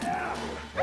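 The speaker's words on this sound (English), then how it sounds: "Okay, I think I just parried that dog by accident there." A dog barks and yelps during combat in The Witcher 3: Wild Hunt. A couple of short, sharp cries rise from the game sounds, with a louder yip at the end.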